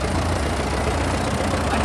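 A 1942 Model H tractor idles steadily in a farm show tractor parade, its low, even engine rumble holding close and constant throughout with no pauses.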